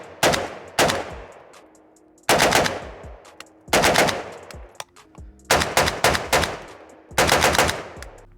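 Bursts of rapid fire from a Draco AK-style pistol, several loud close strings of shots with short pauses between, each burst cracking sharply and trailing off in echo.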